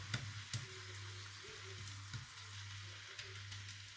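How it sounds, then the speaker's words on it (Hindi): Vegetables for spring rolls sautéing in a pan, a soft continuous sizzle with a low steady hum beneath and a few light clicks of a utensil against the pan. "इसको थोड़ा सा सौते करेंगे।"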